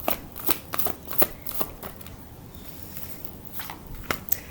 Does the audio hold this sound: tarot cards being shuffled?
yes